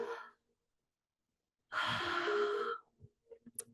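A deep exhale during a core yoga class, a long breathy rush of air lasting about a second, followed by a few soft breaths and small sounds. No one speaks.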